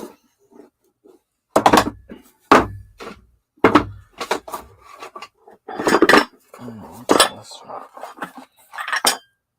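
Small dishes clink and knock as they are unpacked from boxes, a close, fairly loud run of irregular ceramic taps and clatters with brief gaps.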